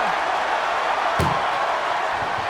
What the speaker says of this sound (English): And they can slam this door shut.